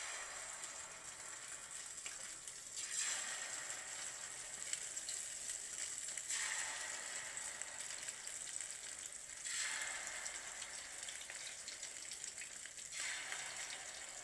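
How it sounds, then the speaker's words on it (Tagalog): Sardine omelette (tortang sardinas) frying in a pan, a continuous hiss of hot oil that swells and eases in slow waves, close and steady with no talking. "At ngayon naman, pipirituhin natin yung tortang sardinas."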